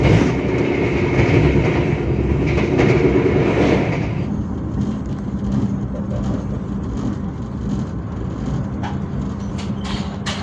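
KA Bogowonto, an economy premium Jakarta–Yogyakarta passenger train, pulls out of Jatibarang station in Indramayu at night, with a steady loud rumble of wheels and carriages that eases slightly after a few seconds and has occasional clacks.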